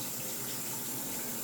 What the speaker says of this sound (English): put this hose into your bucket, and it's going to suck the water out of the bucket and put it into your tank